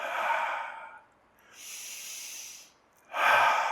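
Deep breathing during a chair yoga pose, close and clear: an audible inhale, a softer exhale, then another strong breath, slow and alone.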